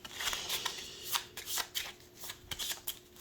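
A deck of playing cards is shuffled by hand in a quiet room, a series of soft riffling bursts and flicks with short pauses between them, close and fairly faint.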